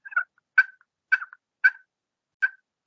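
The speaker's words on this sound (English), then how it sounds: "There's a male turkey that gobbles somewhere" A turkey call produces a male turkey's gobble: five short, sharp, rattling bursts spaced roughly half a second apart, loud and close, with no voices.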